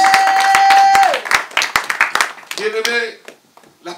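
A church congregation claps and cheers in acclaim of God, with scattered hand claps under loud voices and a held sung tone that fades into shouting.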